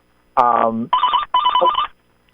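A telephone ringing nearby, a loud electronic tone in three short bursts: a harmonic-rich first pulse, then two buzzing warbling rings, with a faint voice-like quality mixed in and silence after.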